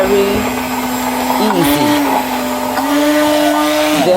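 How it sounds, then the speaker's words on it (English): Immersion blender whirring as oil is blended into homemade mayonnaise, a loud continuous motor whine whose pitch dips briefly as the blade moves through the mixture, with a short spoken word over it. "we can start moving the blender to continue blending in the oil"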